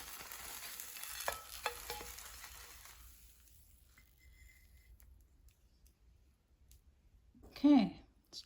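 JUST Egg plant-based egg fries in butter in a pan with a soft sizzle and a few clicks from a utensil that fade to near quiet, and a brief voice near the end.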